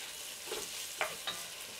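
Bacon sizzles faintly in a pot over raised heat, a low steady frying hiss broken by a few small pops and spits, with no one talking.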